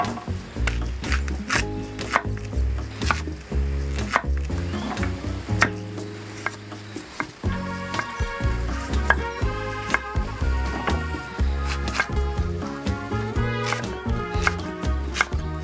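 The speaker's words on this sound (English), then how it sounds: "Chop them up first" A knife chops candy beet, courgette and onion on a board outdoors, a quick steady run of crisp close taps that carries on throughout, with a brief pause partway through.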